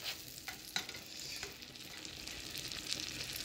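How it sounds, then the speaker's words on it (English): A utensil scrapes and stirs ground beef and lasagna ingredients in a hot frying pan, sharp scraping strokes over a constant close sizzle. "Let's mix this around"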